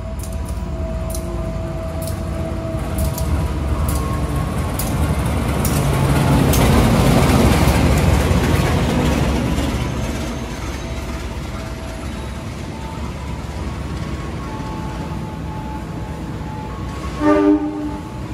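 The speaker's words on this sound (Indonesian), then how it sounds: "Segera masuk rangkaian Jakatingkir di jalur 4." The Jaka Tingkir economy train rolling into track 4 at a station, a long rumbling approach that swells and fades with wheel clatter and squeal, horn blasts and a sharp clank near the end, no talking.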